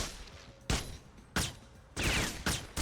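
Gunfire from the 2005 video game NARC crackles in four sharp, separate bursts, with a quieter stretch of background between the shots.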